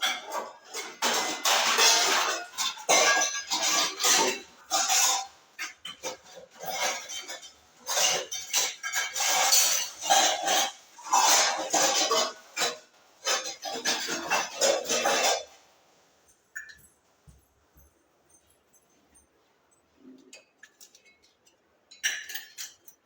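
Repeated clinking and clanking of two pots being set out and handled for an Ahoi Ashtami ritual, with dense metallic knocks and chinks for about fifteen seconds, then near silence broken by a few faint taps.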